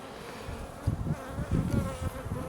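Honeybees hum steadily in an opened brood hive, a dense close buzzing drone with swelling pulses of wingbeats and no talk.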